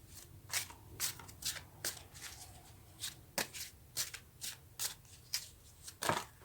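Tarot cards riffled and shuffled by hand in a series of crisp, rhythmic bursts, close and fairly quiet, with no voices.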